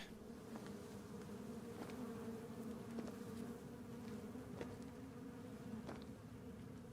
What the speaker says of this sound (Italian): Sacco di mosche.